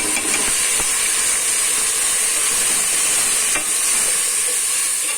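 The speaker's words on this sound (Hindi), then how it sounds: "अब इसमें ये गीला किया हुआ कोरमा मसाला का पैकेट चला जाएगा।" Wet korma masala paste tips into a hot pan for a village-style Pakistani dish, sizzling and hissing steadily under stirring, with a few scraping taps of the spoon against the pan and no talk.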